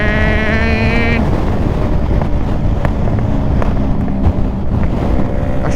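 A 2022 Yamaha R3 motorcycle cruises in 6th gear at 9,000 RPM, its engine a loud, steady high-pitched drone heavily buffeted by wind roar, with a brief harmonic whine at the start.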